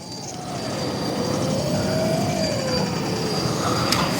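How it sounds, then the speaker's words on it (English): Brushless motor of an FCX10 Pro V2 Toyota LC80 RC crawler during a slow crawl, a steady whining hum with a gently rising and falling tone, sustained close up without voices. "I do quite like the noise when you're kind of slow crawling like this as well from the Brushless system."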